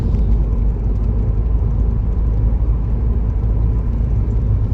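Car cruising along an empty road on a Sunday drive, a loud steady low rumble of engine and tyres heard from inside the vehicle, constant with no talking.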